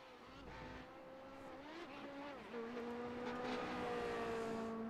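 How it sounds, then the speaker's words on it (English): Race cars at Road Atlanta spin celebratory donuts after a Radical race, engines droning and rising in pitch as revs climb steadily, a continuous whining roar heard from a distance without any voice over it. "And the celebratory donuts will commence."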